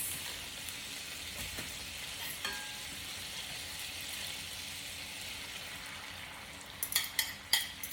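Eggs hit a pan of melted cheese and fry with a steady, soft sizzle, then a few faint clinks and stirring scrapes near the end.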